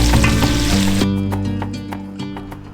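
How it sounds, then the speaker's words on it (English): Garlic, carrots, celery and onions sizzle loudly in hot bacon fat, a dense crackling hiss that thins out partway through into scattered pops and spits. "add things like the garlic and the carrots and the celery and the onions, and then cook it until it gets soft"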